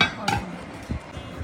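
Plates and cutlery clink at a restaurant table while kacchi biryani is served, with a bright metallic chink near the start and several softer knocks and taps after it, close and clear.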